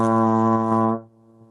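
A single low B flat on a trombone, played with poor tone, blares loud and buzzy for about a second, then cuts off abruptly, leaving a faint lingering tail.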